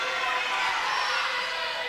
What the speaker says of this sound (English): This crowd roaring for Quaid.